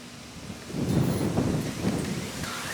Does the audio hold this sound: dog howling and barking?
no